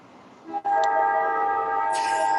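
A train in a video game sounds a sustained horn-like chord that swells in abruptly after a short thump, holding steady with a brief hiss near the end.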